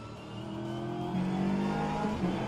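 BMW GT3 race cars battling at the Norisring in a racing video game, steady engine drone with rising and shifting revs as cars run close together, loud and continuous without speech.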